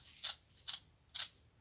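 Scissors cut through burlap fabric for a rabbit-shaped coaster, three crisp, evenly spaced snips, close and quiet with no talking.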